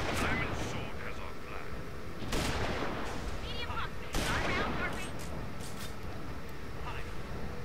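Sharp bursts of BXT1 rifle fire in the sci-fi shooter Tribes: Ascend, two loud cracking shots standing out over a busy rumbling game mix with a voice talking throughout.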